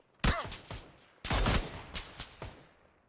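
Gunshots in the video game PUBG on console: two loud, close blasts about a second apart, each followed by ringing echoes and a few smaller trailing cracks.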